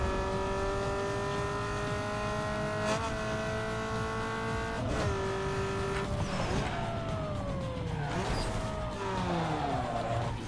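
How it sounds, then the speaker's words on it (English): A car with a 6-speed transmission in Need for Speed Underground 2 revs hard and shifts up several times, each change dropping the whining engine pitch before it climbs again, loud and close with no talk. "I'm just testing the 6-speed transmission a little bit. It does appear to be shifting faster."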